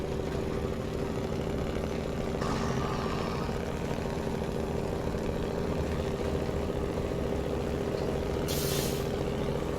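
A heavy truck in SnowRunner, in British Columbia, stuck with its wheels spinning. A steady, loud engine drone runs throughout, with hissing bursts, and no one speaks.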